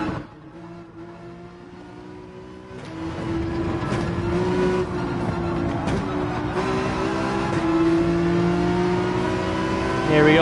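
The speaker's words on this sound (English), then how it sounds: "Full throttle through there. I kind of like the Mustang on this track" A Ford Mustang race car held at full throttle on track in Gran Turismo 7, its engine droning loud and steady with rising pitch and brief shift dips, plus faint tire noise.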